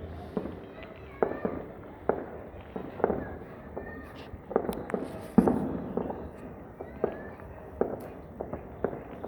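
Fireworks pop and crack outside over a city during New Year 2025 celebrations, a steady scatter of distant and nearer bangs with rumbling in between, while people talk faintly in the background.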